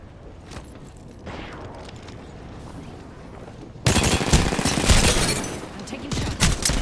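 Rapid bursts of video game gunfire striking the player, a quieter stretch of scattered shots that turns into loud, dense volleys in the second half, with some faint voice underneath.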